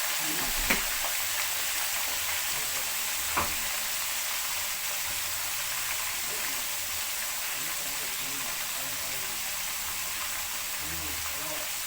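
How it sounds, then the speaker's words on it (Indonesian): White snapper frying in hot oil, a dense, steady sizzle filling the whole clip with a couple of soft knocks near the start, close and continuous. "sambil tunggu ikannya digoreng"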